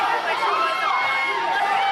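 Kansas City, Kansas wrestling crowd reacting loudly to Hollis Giroux, a dense wash of jeering and hollering voices filling the arena, with no single voice standing out.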